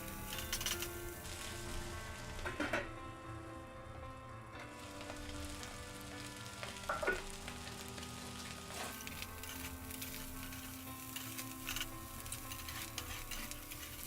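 Fried rice with chicken is turned and mixed in a hot frying pan, giving a steady low sizzle with occasional scraping clinks of a utensil against the pan, close and fairly quiet.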